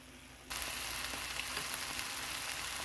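Bell peppers fry in oil with a steady, close sizzle that starts abruptly and continues evenly, with faint crackles and no talking.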